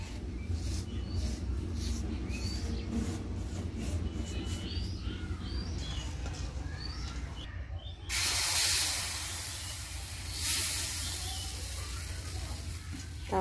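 Pitha cakes of date-palm juice and milk go onto a hot griddle wiped with oil, giving a steady sizzling hiss that swells loudly partway through and stays under faint background noise.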